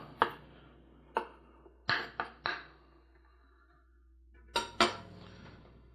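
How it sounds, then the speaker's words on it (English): Knife work on garlic cloves for a home salsa in a kitchen: a handful of sharp, separated clicks and taps of blade on board, spaced irregularly with quiet gaps between them, close and fairly crisp, with no talking. "we need to slice some garlic cloves"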